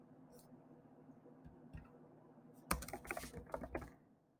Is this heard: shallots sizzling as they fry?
no